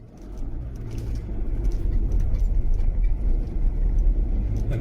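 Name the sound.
MG Midget old car driving past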